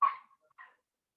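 A puppy barks twice inside a family house: a sharp yip, then a softer second bark about half a second later, faint and isolated against silence.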